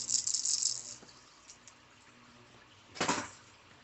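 Small BBs rattle inside a multi-pitch fishing lure as it is shaken. A loud burst opens the clip, soft ticks follow, and a second sharp shake lands near the end. The rattle is close and there is no talking.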